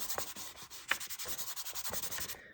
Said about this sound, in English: And I'm going to rub it a bit.